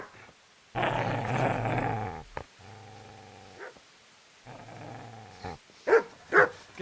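A dog growls in Kingdom Come: Deliverance, with two sustained, close growls and a quieter rumble between them, followed by short snarls and yips near the end.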